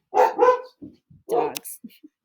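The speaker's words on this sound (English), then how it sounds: "Dogs." Several short dog barks in quick bursts, a pair close together then another, followed by a few faint yips, fairly near with no talk over them.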